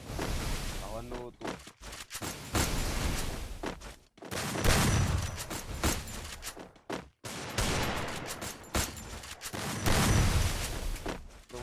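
Rapid bursts of gunfire from a Free Fire custom match in a shooting video game, loud and dense with short pauses, firing in repeated volleys over about twelve seconds while a voice talks over the shots.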